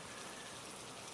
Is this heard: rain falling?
yes